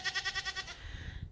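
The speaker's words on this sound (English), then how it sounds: "There's our goats" A goat on a farm gives one quavering bleat in rapid pulses, near and clear, before it trails off into quiet rustling.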